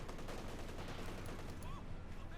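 Dense, continuous automatic gunfire from machine guns in a Company of Heroes 2 match, a steady rattling barrage with overlapping bursts filling the whole stretch, loud and close.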